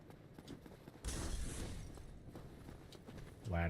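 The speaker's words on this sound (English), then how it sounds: "These footsteps I'm hearing." Soft, rapid footsteps sound faintly in a video game, a quiet irregular patter of steps beneath a sudden louder burst of game noise, and a tonal game sound enters at the end.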